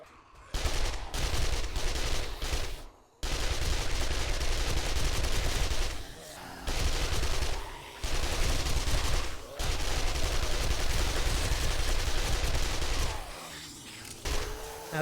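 Rapid gunfire bursts aimed at zombies in the survival game 7 Days to Die, loud and near, with repeated volleys separated by brief pauses across the stretch.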